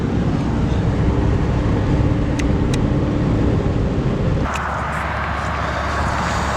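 Cars idle and move around a snowy gas station, a steady broadband rumble that fills the scene and then abruptly drops to a softer, thinner hum partway through.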